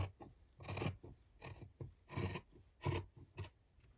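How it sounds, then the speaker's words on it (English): Scissors cutting along a marked line through material for a slow stitch journal, a series of close, rasping snips in an uneven rhythm with short pauses between cuts. "I'm gonna cut along there, because once I've cut one, I can use it as a template."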